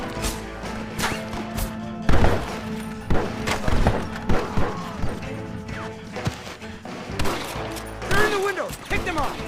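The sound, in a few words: gunfire in Red Dead Redemption video game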